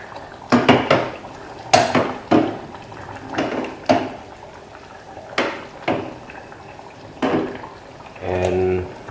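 A metal lid lifts off a pot of gently simmering Nyonya asam tamarind fish curry: a series of sharp clanks and clinks of cookware, with a soft bubbling at the end.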